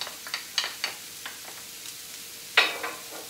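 Cauliflower added all at once to a medium-high pan for a tofu stir fry crackles and sizzles in a run of short spitting bursts, close and fairly loud, with one bigger flare near the end.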